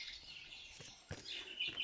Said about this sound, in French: les oiseaux qu'on entend